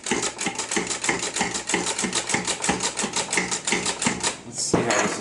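A food processor pulses fresh pasta dough made with flour and olive oil, giving a loud, steady chopping rattle in rapid repeated beats, with a brief louder burst near the end.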